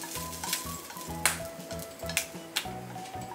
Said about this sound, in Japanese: パチパチパチパチっていったら、火弱めて大丈夫ですよ。